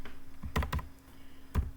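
Computer keyboard typing a short word: a handful of distinct, close key taps in small bursts with gaps between, set against a faint steady hum.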